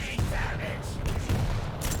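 Rocket launcher shots and explosions in a Quake duel, a few dull booming blasts over a steady bed of game noise, moderately loud with no clear gaps between impacts.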